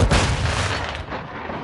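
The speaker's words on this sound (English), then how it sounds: "Friendly cruise missile." A friendly cruise missile exploding in Modern Warfare II, a single heavy booming blast with a thick low rumble that quickly decays into a fading roar.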